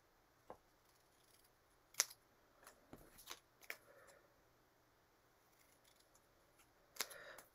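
Scissors snipping the cuffs off card, a handful of sharp isolated cuts spaced irregularly over a quiet room background, close to the microphone with pauses between snips.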